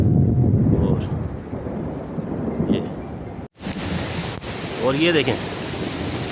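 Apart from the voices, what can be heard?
thunderstorm with thunder, strong wind and rain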